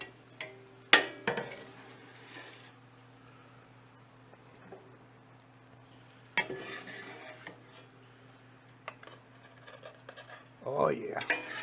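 Food being moved into a bowl for cheeseburger eggrolls in a home kitchen, with scattered clinks and scrapes of dishes and utensils, a few sharp knocks standing out over a steady low hum.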